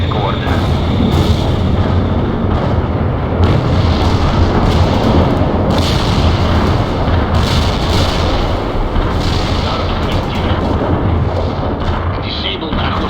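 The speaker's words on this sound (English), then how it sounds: "Artillery strike is inbound." An artillery barrage in the World in Conflict game keeps up a dense roar of overlapping booms and blasts, loud and continuous, with radio-style voices speaking over the din.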